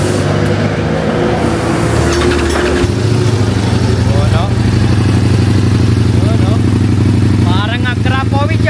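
A Ducati Multistrada V4 Rally fitted with an Orion exhaust idles with a deep, loud rumble, then revs and pulls away. Its engine note fills the clip while people talk over it close by.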